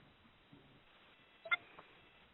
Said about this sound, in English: we're going to jump on the phone lines here and take this call.